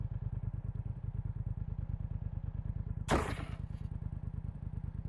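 A motorcycle with a sidecar in the VR shooter game Pavlov VR runs with a steady, rapid engine putter throughout, broken near the end by a sudden loud crash or clatter that fades away.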